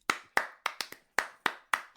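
Hand claps open a show, seven sharp, close slaps in an uneven, quick rhythm, each ringing briefly before the next, with no talk.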